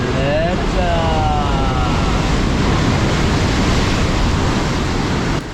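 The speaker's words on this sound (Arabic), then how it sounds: "صوت الموج وصوت البحر فهو هائل هائل هائل جدا" Sea waves crashing against the rocks at Oualidia cave, a loud, continuous roaring wash of surf with heavy wind buffeting the microphone, close and overwhelming, with a voice briefly heard beneath it at the start.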